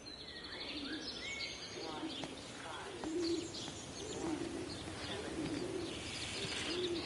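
Pigeons coo repeatedly in a rural English village setting in the game Everybody's Gone to the Rapture, with soft rhythmic calls over faint chirping birdsong and quiet ambience.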